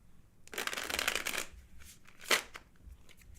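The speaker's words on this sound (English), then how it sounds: "Hey, quiet in there with the shuffling." Magic: The Gathering cards riffle-shuffled at a casual Commander game in a studio, a long dense burst of crisp flutter followed by a shorter second riffle, close and fairly loud with no talk.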